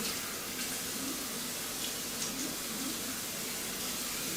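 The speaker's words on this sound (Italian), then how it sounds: "aggiungendo naturalmente una porzione di acqua sul viso" Water runs and splashes while someone rinses their face during a shave, a steady close hiss of tap flow with soft intermittent splashes and no speech.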